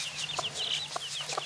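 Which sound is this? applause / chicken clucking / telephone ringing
chicken clucking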